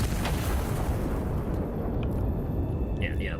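Heavy turret cannon firing in the video game Iron Nest: a dense, sustained low rumble of the blast and its reverberation filling the whole moment, with a couple of faint high metallic clinks near the end.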